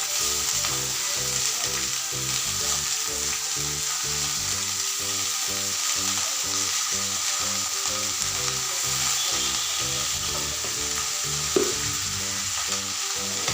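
Shredded cabbage and cut green chillies frying in hot oil, a strong, steady close sizzle with stirring throughout and no voices.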